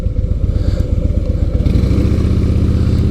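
A Victory Gunner motorcycle engine runs close and loud with a steady, deep, throbbing rumble that grows slightly fuller partway through, with no talk.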